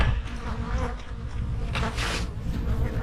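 Honey bees hum at a beehive in fall, a dense, continuous buzzing swarm close by with individual bees swelling louder as they fly past.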